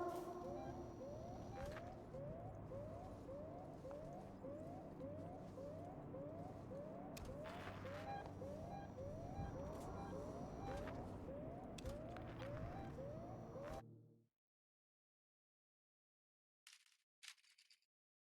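In the sci-fi horror game Alien: Isolation, an alarm blares with a repeating, rising-falling siren pattern, loud and steady for about fourteen seconds before cutting out abruptly into silence, with brief faint noises near the end.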